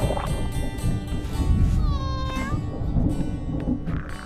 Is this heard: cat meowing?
yes